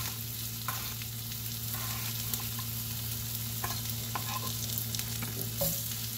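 Potatoes cut thin and thick fry in a pan with a steady close sizzle, with a few light scrapes and ticks from stirring and no speech.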